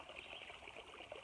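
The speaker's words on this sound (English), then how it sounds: "you can see behind me there's a stream flowing right by it" A trailside stream at Flint Mill flows past the site with a steady, faint babbling hiss of running water. The trickling holds an unbroken texture with no voices over it.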